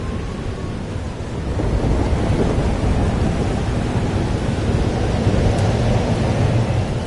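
A thunderstorm in the video game Life is Strange Double Exposure, with a steady wash of heavy rain and low thunder rumbling throughout, rising slightly after the first second and staying loud with no voices.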